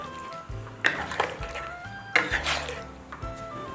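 Braised pork belly being stirred in a pot after slow simmering, with salt added and scallion and ginger picked out: a few clinks and scrapes of utensil against metal and soft stirring squishes, close and moderately loud, no talking.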